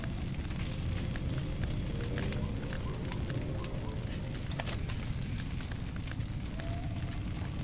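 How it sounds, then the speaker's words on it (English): Raging fire spreading in Far Cry 2, a steady dense roar and crackle with scattered sharp pops, continuous and fairly loud throughout without talk. "He's backing away from the fire. This fire is raging on."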